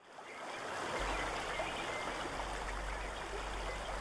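Water flowing along the Lin Canal, a transport channel dug by Qin troops, gives a steady broadband rush with no breaks, loud and close, and a low rumble joins in after the first second.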